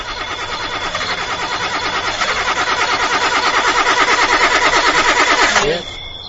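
A car engine fails to start in a radio horror drama, the starter cranking in a fast, even, rhythmic chug that grows slightly louder for about five and a half seconds, then cuts off abruptly, leaving a quieter tail.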